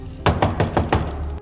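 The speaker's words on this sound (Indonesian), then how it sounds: "Setelah mengetuk pintu berkali-kali, pria itu tidak memberikan respon." Knuckles rap on an apartment door in a quick series of five or six sharp, close knocks, evenly spaced, with no talking.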